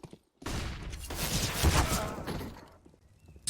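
Rapid pistol gunfire in a Counter-Strike esports match, a CCT West Europe Series qualifier: a dense, loud volley of overlapping shots lasting about three seconds after a brief silence, with no voices over it.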